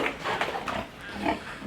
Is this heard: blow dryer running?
no